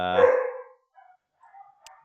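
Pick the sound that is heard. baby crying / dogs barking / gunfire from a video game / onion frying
dogs barking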